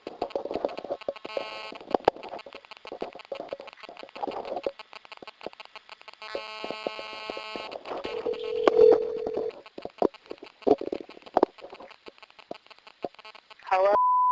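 A recorded phone call plays repeated electronic call tones and beeps in short bursts, with a voice talking intermittently between them and a sustained tone at the end.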